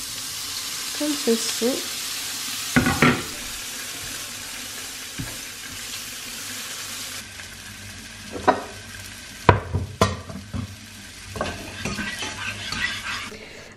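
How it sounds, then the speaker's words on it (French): Leeks cook in butter in a pan with a soft, steady sizzle, interrupted by utensil scrapes, clinks and knocks against the pan. A voice speaks briefly. "je commence à faire cuire mes poireaux dans du beurre"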